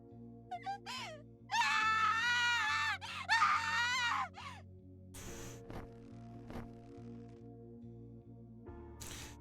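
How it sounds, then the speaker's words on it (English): A woman in the video game Death end re;Quest 2 lets out two sustained, loud, high-pitched screams over steady game background music, followed by a few sharper impact sounds. "Vina responded with a high-pitched scream"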